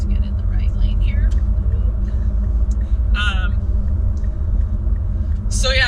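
Steady low road rumble inside a car on a long solo highway drive, continuous and loud throughout, with a voice speaking over it and a brief higher-pitched noise twice.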